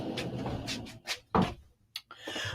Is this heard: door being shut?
yes